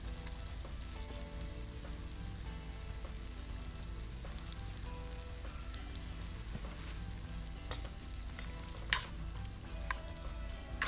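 Sausage and onions fry in a pot over campfire coals at a campout, giving a steady, dense sizzle with faint crackles and occasional clinks, heard alone without talk.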